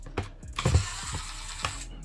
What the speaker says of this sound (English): So let's get this screw out.